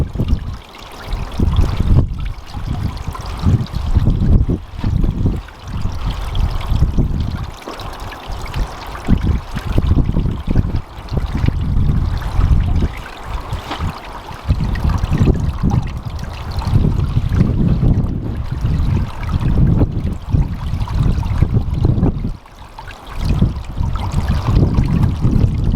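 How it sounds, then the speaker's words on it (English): Water from a garden hose trickles and splashes steadily into a small wildlife pond outdoors, a continuous close, fairly loud pouring wash with no voices. "You can see it's dripping into the mini pond as it is."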